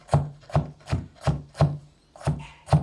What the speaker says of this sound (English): Here we see how Dedushka chops it